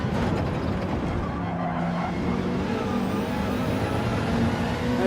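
A Cobra race car in Gran Turismo 7 runs racing laps, with a loud, continuous engine roar and tyre noise that stays steady throughout.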